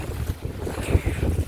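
Cold wind blowing outdoors against a tarp, heavy gusty buffeting with low thumps and flaps as the gusts strike, close and rough throughout the short stretch, without speech.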